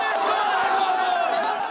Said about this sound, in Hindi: मंगलवार को नीतीश कुमार की रैली में कुछ लोगों ने विरोध में नारे लगाए।